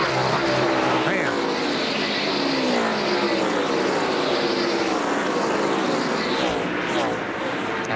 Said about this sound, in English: Boy, Michael all over the limiter. Rev limiter going into turn 3.